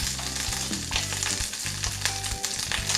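Fish sears in a hot pan as lemon is added to deglaze it, giving a dense, steady sizzle with some faint tonal background sound.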